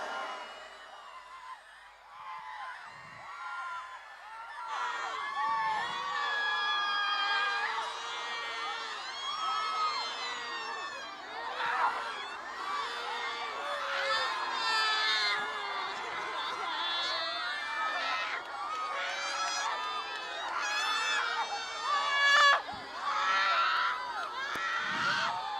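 Large crowd at an outdoor fire prayer crusade in Gurdaspur shouting, screaming and wailing continuously, a dense, loud wall of overlapping voices with rising surges of cries throughout.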